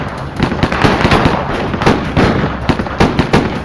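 Rapid bursts of gunfire as police and FBI agents trade shots with a fugitive cop killer, loud, dense and irregular cracks and pops tumbling over one another without pause.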